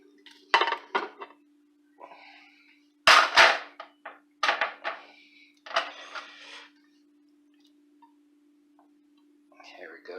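Cubes of chicken tossed into a dish during home cooking of chicken cream corn chowder make several sharp clattering knocks in clusters, with quieter pauses between them and a steady faint hum underneath.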